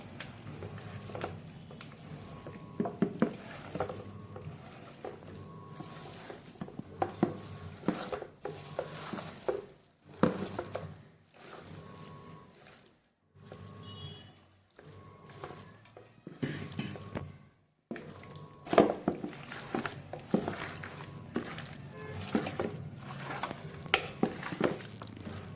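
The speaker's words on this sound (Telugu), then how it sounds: "మమ్మీకి హెల్ప్ చేద్దామని నేను మ్యారినేషన్కి మిక్స్ కలుపుతున్నా" Chicken pieces being mixed by hand with biryani marinade masala in a bowl, with wet squelching, stirring and occasional clinks of the bowl, continuous and close, broken by a few short pauses.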